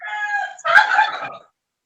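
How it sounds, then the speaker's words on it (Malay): A chicken gives one short, close crow in two loud bursts, followed by silence. "Ini ayam ke tu?"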